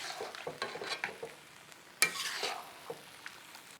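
Beef and broccoli in sauce cooking in a pan, with a soft bubbling sizzle broken by several scraping stirs and a sharper clink near the middle, close and fairly quiet with no talking.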